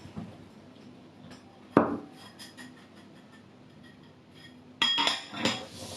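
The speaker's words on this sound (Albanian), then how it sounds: "Do t'i kalojmë ullinjt mirë në miell." Olives are tossed in flour in a bowl, making soft scraping and tapping against the dish, with a few sharp clinks of utensil on bowl now and then. The sounds are close.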